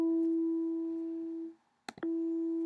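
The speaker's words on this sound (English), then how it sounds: "there it is, the 7th fret harmonic" A guitar's 7th fret harmonic rings as a pure sustained bell-like tone that fades out, then after a couple of brief clicks it is struck again and rings clearly once more.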